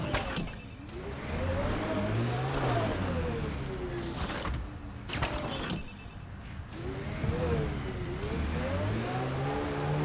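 A Nomad rover from Mass Effect: Andromeda in six-wheel drive, its engine revving up and down in loud, continuous strained surges as it climbs a steep slope, with brief drops and a short break in the middle.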